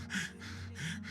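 A man imitates being out of breath with his voice, producing two or three quick gasping, panting breaths, close and fairly loud, with no words spoken.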